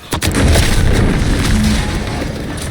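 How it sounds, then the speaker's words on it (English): A loud, close explosion in The Outer Worlds 2 video game: a sharp boom at the start swells into a sustained rumbling roar with crackling debris that slowly fades over nearly three seconds. "What's that? An explosion?"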